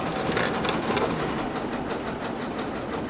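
A sewing machine sewing in a home Etsy workshop: a loud, steady, fast mechanical whirring chatter running throughout without a break.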